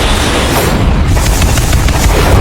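Loud, dense booming and crackling blasts as Indian Navy warships in the Arabian Sea fire anti-ship missiles and artillery guns during war games, a continuous roar with rapid overlapping reports.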